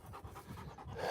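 A tired dog panting close by, quick rhythmic breaths in steady repeating bursts through the whole moment, fairly quiet, no talking.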